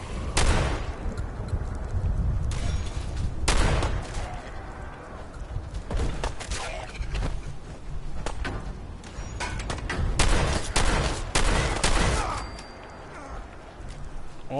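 Gunfire in Fallout 4 comes as bursts of sharp shots in clusters, some sustained like fusillades, over steady game background noise. The shots stand out clearly.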